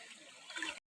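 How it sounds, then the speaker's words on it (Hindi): Water in a village stream trickles and gurgles softly and continuously nearby, swelling a little before cutting off abruptly, with no talking. "पूरा कुलु कुलु नादरे पेनटा बही आसुचे"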